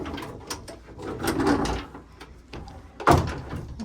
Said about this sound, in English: Little bifold doors in really good shape.